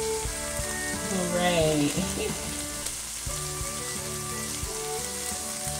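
Noodles fry in a hot pan with a loud, steady sizzle throughout, broken by scraping stir noises and a few clicks. A voice speaks briefly over it.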